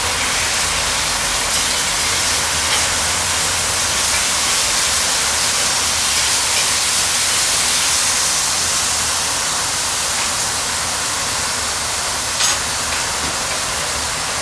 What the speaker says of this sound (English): toss a little bit more butter in there